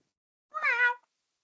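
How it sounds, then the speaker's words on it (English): A single cat meow, drawn out and clear for about half a second, rising and falling in pitch with rich harmonics, close and alone against silence. "This cat?"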